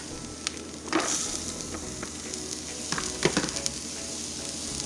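Onion hits hot oil in a pan already browning garlic, giving a steady crackling sizzle with a few sharper pops, close and moderately loud, with no talking.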